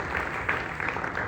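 A church congregation at a sermon applauds in a dense, continuous wash of clapping, moderately loud and steady for a short burst, with no speech over it.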